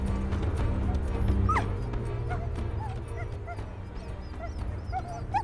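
A team of huskies pulling sleds in Greenland, barking, yipping and whimpering, with several high, thin whines over a dense, steady rumble of movement; nearby and moderately loud.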